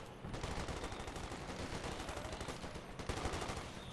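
Machine gun fire rattles in Company of Heroes 2, a dense, continuous stream of rapid shots with steady rhythm, fairly close and sustained for about four seconds without talk.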